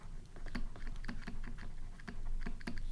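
Typing notes on a computer keyboard during a physics lecture on Huygens' wave theory of light: brisk, close clicky keystrokes in irregular bursts, a few louder key taps standing out, no talk.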